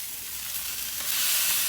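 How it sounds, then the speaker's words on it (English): Kansas City strip steaks flipped on an Oklahoma Joe's Blackjack grill, a loud, close, continuous sizzle that swells as the meat lands on the hot grate. "Let's flip these steaks over"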